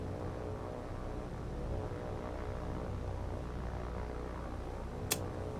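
A propeller scout plane drones steadily overhead in the naval combat game War on the Sea, a constant low engine hum with a brief sharp click near the end.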